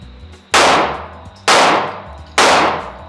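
Three loud, close gunshots at an outdoor shooting range, evenly spaced about a second apart, each with a sharp crack and a long ringing decay.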